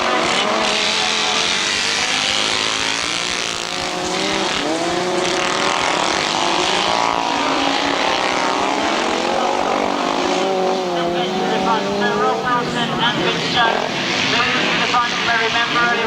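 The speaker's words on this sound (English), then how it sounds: "We're underway with the 1000cc right-hand side car B final." Several 1000cc right-hand sidecar outfits roar together in a grasstrack B final, engines droning and rising continuously under a commentator's steady voice.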